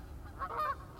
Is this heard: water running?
no